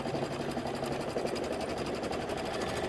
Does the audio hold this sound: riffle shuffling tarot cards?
no